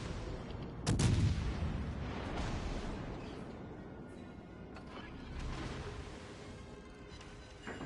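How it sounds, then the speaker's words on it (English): Warship guns firing in the naval battle game World of Warships Legends, one loud booming salvo near the start followed by a rumbling tail and further muffled reports in the distance under steady ambient noise. "Yeah, you keep firing at me, Fletcher."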